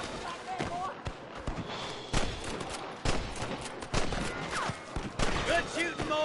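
Gunfire in Red Dead Redemption sounds as repeated sharp shots scattered through a busy firefight, mixed with hoofbeats and game noise. Voices talk over it at times.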